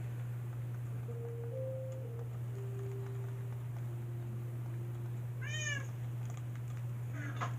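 A pet cat lets out a few soft meows, the clearest a rising, wavering cry near the end, faint against a constant electrical hum.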